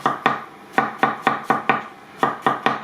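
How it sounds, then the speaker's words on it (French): Rapid knife strokes slice bell peppers on a cutting board, a steady run of about a dozen crisp, close, loud chops with a brief pause midway. "pendant ce temps que je coupe les poivrons, je mets dedans"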